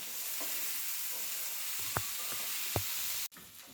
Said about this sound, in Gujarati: હવે આ બધા જ મસાલાને આપણે મિક્સ કરી દઈશું।